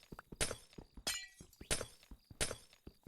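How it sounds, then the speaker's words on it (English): Glass knocks and clinks loudly in four or five sharp, bright hits spaced irregularly, with quieter taps between them and no talk. "Dude, this glass is so loud."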